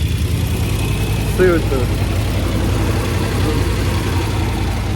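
A car engine with a failing belt tensioner idles up, a steady loud drone with a faint whining squeal over it while someone speaks briefly.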